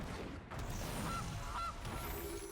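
A goose honks twice, short and faint, as the goose card is played in Magic: The Gathering Arena, over a dense layer of game background sound.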